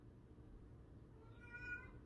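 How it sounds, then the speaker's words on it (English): A house cat gives one short meow, faint and somewhat distant, rising briefly over a low steady room hum. "My cat's calling me."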